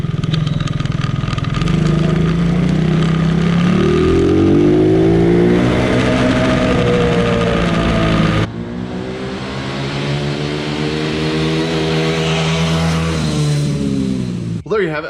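A kids' quad ATV engine revs and surges loudly throughout a short drive, rising and falling in pitch as the throttle opens and eases, with a brief break midway before the revving resumes.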